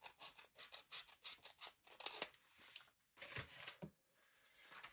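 Scissors snip steadily through an old paper map up close, a quick run of crisp rasping cuts followed by a pause and a few slower strokes, quiet and without talk.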